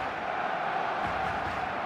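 A large stadium crowd of supporters in the video game eFootball 2026 roars steadily in a dense, continuous wash of cheering and chanting.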